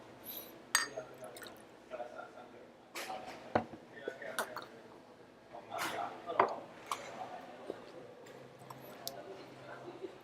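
Water poured into a glass at home, with soft liquid trickles, splashes and light glass clinks scattered over several seconds, quiet and close, with faint background noise.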